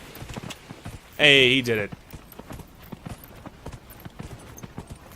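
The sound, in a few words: horse galloping hooves in video game Dragon Age Inquisition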